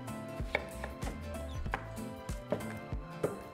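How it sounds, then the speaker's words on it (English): A knife cuts watermelon into smaller pieces on a kitchen board, giving about eight separate dull chops at an uneven, unhurried pace with soft handling sounds between them. "And now we can begin to cut into smaller pieces."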